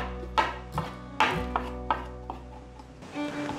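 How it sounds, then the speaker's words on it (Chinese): A knife on a cutting board slices fresh shiitake mushroom caps and stems into strips, giving about seven sharp, irregular chopping knocks, close and clear, then a brief rustle at the end. "把鲜香菇的角切下来，切片，把香菇角切条"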